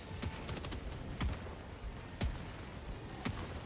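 Turret gunfire in a Helldivers-style shooter game, with sharp, fairly faint bursts and single shots cracking at irregular intervals over a constant busy background din.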